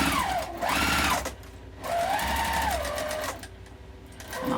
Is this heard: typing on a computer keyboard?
no